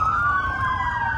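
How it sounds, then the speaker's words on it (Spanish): A wailing emergency vehicle siren holds a loud, steady high tone that slowly glides downward over a low rumbling traffic hum. "Sirenas y vehículos irrumpieron el espacio."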